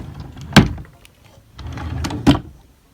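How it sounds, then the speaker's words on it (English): Two dresser drawers slide shut smoothly one after another, each a short rolling glide ending in a solid bump, close and loud with a quiet gap between them. "you can see how easy these drawers go in. They don't get stuck at all"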